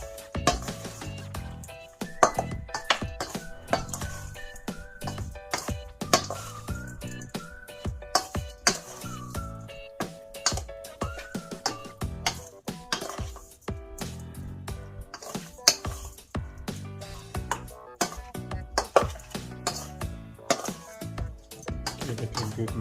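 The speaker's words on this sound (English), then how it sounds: "Then I'm going to mix that up." Tofu marinade with salt being mixed in a bowl: irregular clinks and scraping knocks of a utensil against the dish, fairly close, with sharp tonal rings between strokes.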